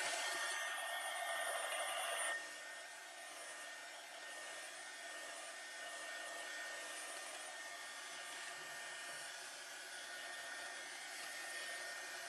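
Hair dryer blowing steadily on wet Pentart patina paint, a constant close whoosh that is louder for the first two seconds, then drops to a lower setting and keeps running alone with no talk.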